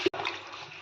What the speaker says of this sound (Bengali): এবার আমি দিয়ে দেবো জল।